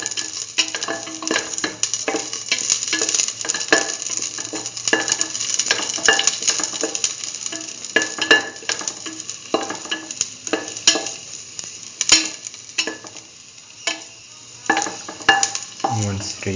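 Raisins frying over low heat in a pan with salt, a soft continuous sizzle broken by frequent sharp pops and clicks of a utensil stirring and scraping, close and fairly loud with no talking.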